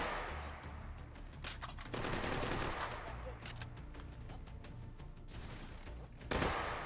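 Gunfire from Sosigs in a video game: rapid bursts of automatic shots crackle almost continuously, fairly faint under the mix, with brief pauses and a sharper burst near the end.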